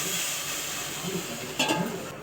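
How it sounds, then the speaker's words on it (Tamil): Mixed curd and masala tipped into a hot pan, giving a steady hiss and sizzle throughout, close and fairly loud, with a brief sharper burst of spattering near the end. "இப்போ கலந்து வச்சுருக்க தயிர், அது கூட இருக்கிற மசாலாலாம் கீழே கொட்டிக்கிட்டு"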